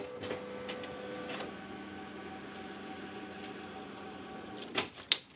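An Epson L1300 ink tank printer working on A4 paper hums steadily at close range with a faint mechanical whir, and a couple of sharp clicks and clunks follow near the end.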